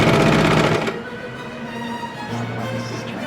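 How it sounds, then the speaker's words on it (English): A sewing machine runs a fast, buzzing burst while topstitching the collar of a kids' raglan T-shirt, then stops, followed by quieter mechanical hum and a brief second whir. "I might do some top stitching around the collar."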